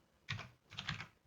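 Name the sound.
typing on a computer keyboard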